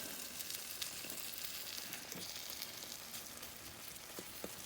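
A ham and cheese omelette with onion, peppers, mushrooms, spinach and tomatoes sizzles in butter and a little oil, a soft steady frying hiss with faint crackles, low and continuous, no voices.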